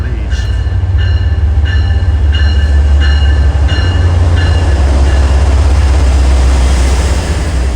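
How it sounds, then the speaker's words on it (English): An MBTA South Coast Rail train, No. 2067 running from East Taunton to New Bedford, rumbles loud and close in a steady roar, with a series of short tonal horn-like blasts repeating during the first few seconds. "This will be our connection for train 2067 to New Bedford, which I will ride."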